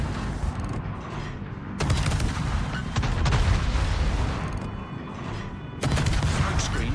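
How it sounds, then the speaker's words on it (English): Naval gunfire in the World of Warships video game: several heavy booming salvos from a Royal Navy tier nine Jutland destroyer shelling the Musashi, with rumbling blasts and crackling bursts that carry on continuously over dense battle noise. "Got the Mizashi moving very slowly up, so we should be able to shell him"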